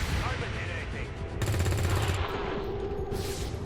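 Rapid reaction gunfire from soldiers in the turn-based strategy game XCOM 2, a dense burst of repeated shots that swells in the middle and then tapers, under faint talk.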